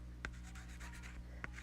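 Pen or marker strokes drawing a fraction diagram on paper, a few short scratchy lines with brief sharp taps, quiet and close against a faint steady hum.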